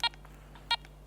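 A metal detector sounding off on a coin, two short electronic beeps about two thirds of a second apart over a faint steady hum.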